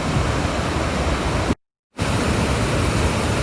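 Cayadutta Creek waterfall in the town of Mohawk near Fonda, where the creek tumbles over bedrock close to the Mohawk River: a steady, loud broadband roar of rushing water, broken by a brief dropout partway through.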